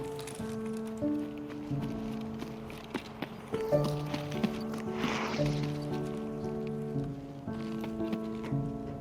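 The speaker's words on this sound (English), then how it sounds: "I soon heard some footsteps." Footsteps in the shooter game Escape from Tarkov, a steady series of soft, clopping steps at a moderate distance under sustained tonal background music.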